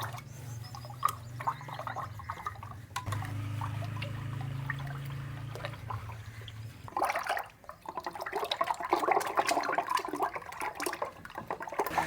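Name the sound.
hand churner (madhani) mixing milk, sugar and eggs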